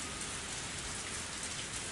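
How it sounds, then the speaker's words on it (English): Heavy rain in the video game Higurashi: When They Cry, a steady loud downpour of dense hiss that stays constant throughout with no pauses, heard alone. "why are we hearing such loud rain?"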